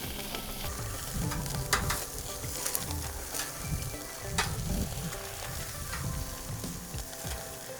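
Steak kabobs sizzle steadily on the top rack of a Mesa 400 gas grill, a loud continuous frying hiss broken by occasional clunks and scrapes of metal.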